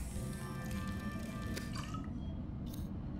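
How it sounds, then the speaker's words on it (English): Filtered water being made from a bladderfish in a Subnautica fabricator: a soft liquid bubbling and dripping with faint glassy ticks, quiet and brief, then a short bright chime near the end. "Here we made some filtered water out of the bladderfish."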